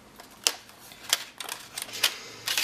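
Paper cutter slicing cardstock for a round card base: a series of sharp, dry clicks and short scraping strokes at an uneven pace, close and fairly quiet, with no talk.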